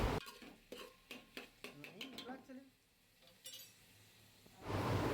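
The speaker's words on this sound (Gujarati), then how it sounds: "આ રીતે લો ટુ મીડિયમ ફ્લેમ પર બસ આ રીતે એને સોટે કરતું રહેવાનું છે અને મિક્સ કરતું રહેવાનું છે" A metal spoon scrapes and clanks rhythmically against a pan while onions are stirred and sautéed over low to medium flame for dal makhani, close and distinct, then a louder sizzling rush swells at the end.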